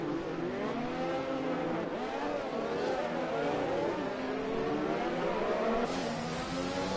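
F4 race cars lap the Monaco circuit in a PS4 racing game, their engines whining and revving in overlapping rising and falling pitches as several cars pass close together, steady and moderately loud.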